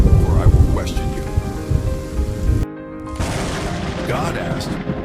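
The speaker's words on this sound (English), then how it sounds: "A powerful storm formed suddenly" Heavy storm with steady rain and low rumbling thunder, a dense wash of noise broken by a brief near-silent gap before the downpour returns, with faint voice-like sounds mixed in.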